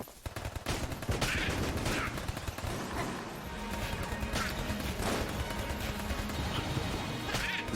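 Gunfire in Enter the Gungeon rattles on continuously, with rapid repeated shots and crashing impacts layered over busy game music and effects at a steady loud level.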